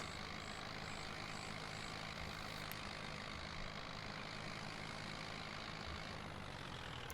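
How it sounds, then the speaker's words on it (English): An old tractor with a top speed of 30 drives along in Farming Simulator 25, its engine giving a steady, continuous drone that holds at an even level with no talking. "Drive our old ass tractor back to the house"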